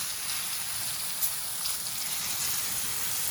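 Chicken pieces coated in corn flour fry in a pan, giving a steady bright sizzle and crackle throughout, with a few sharper pops and no talking.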